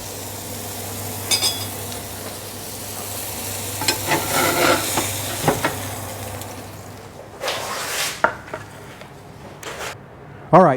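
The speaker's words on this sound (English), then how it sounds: "we're going to cook that for about 12 minutes, and we're going to flip it every 2 minutes until we get the beef to an internal temperature" Beef sizzles and fries on a hot cooking surface for Lebanese street food sandwiches, a steady close hiss with stirring scrapes and occasional clinks of a utensil, and brief bursts of louder crackle.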